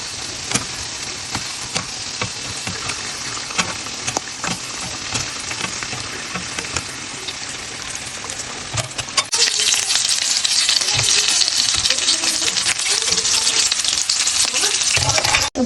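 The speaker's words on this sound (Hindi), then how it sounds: "तो ये अब हो जाएंगे फ्राई" Mini samosas fry steadily in hot oil, giving a continuous crackling sizzle that grows louder and denser about two-thirds of the way through. Nobody speaks.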